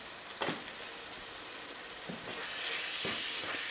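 Spicentice vindaloo curry sizzles in a pan, giving steady frying hiss with a few sharper crackles and spits, close and moderately quiet, with no talking.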